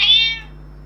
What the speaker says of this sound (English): With your cat?